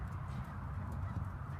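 A ridden horse in an arena moves with soft, muffled hoofbeats over a steady low rumble, faint and close, with no voices.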